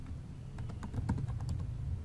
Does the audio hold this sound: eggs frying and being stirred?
no